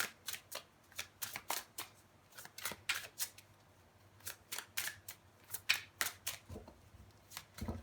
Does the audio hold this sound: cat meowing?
no